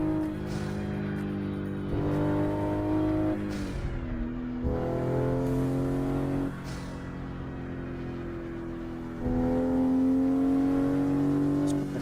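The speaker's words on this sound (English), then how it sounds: "So today I'm driving a Toyota Supra MK5" Toyota Supra MK5 engine in a driving simulator game, revving up and down through several gear changes with steady loud drone and rising pitch, close and continuous for twelve seconds with no talk.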